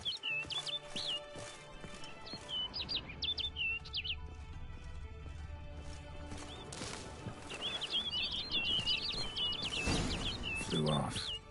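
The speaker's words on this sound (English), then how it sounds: "Looks like the bird's leading me somewhere." Small bird chirping in The Witcher 3, repeated quick bursts of high tweets in two clusters over a game ambience with hoofbeat-like clopping and low rumble, a voice speaking partway through.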